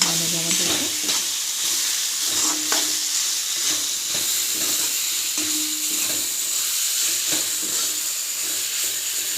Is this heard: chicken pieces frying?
yes